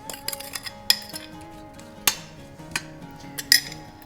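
Chopped rhubarb tipped into a cooking pot, with scattered sharp metallic clinks and knocks at an uneven rhythm, close by in a quiet kitchen.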